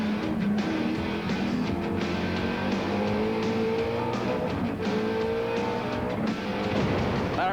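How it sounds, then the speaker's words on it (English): Touring cars racing close together through corners at Eastern Creek in 1993, engines revving and shifting pitch continuously as they rise and fall through the bends, loud and steady without any talk. "They come to see big cars going through corners very close together."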